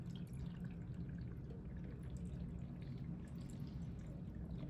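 Water poured into a small plant jar filled with LECA clay pebbles, a quiet, steady pouring and dripping trickle lasting several seconds, faint and unbroken, with no voices.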